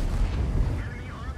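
Incoming tank rounds explode in a T-832 tank combat video game, a dense, rumbling low boom filling the whole stretch with continuous heavy impact noise and a faint whistling tone near the end, with a voice talking underneath.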